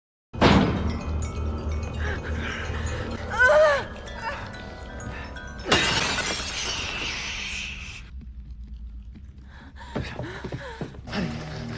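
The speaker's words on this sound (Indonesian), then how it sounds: "Saat Matt berusaha mendobrak dan menghancurkan kaca" Glass is smashed as a man tries to break in during a film scene: a sharp initial crash, another burst of breaking glass midway, and scattered tinkling debris, with gasps and groans around it.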